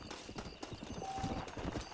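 Horse hooves clip-clopping at a steady walking pace in Red Dead Redemption, a close, continuous rhythm of hollow knocks with no speech over it.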